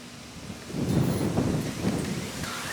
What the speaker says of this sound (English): We have a storm coming.